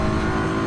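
GT3 race car engine in Assetto Corsa EVO, a steady, loud, harmonic-rich drone held at high revs for a brief moment with no voices.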